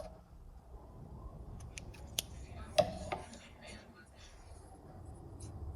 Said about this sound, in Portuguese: E aqui eu já posso cortar o meu fio.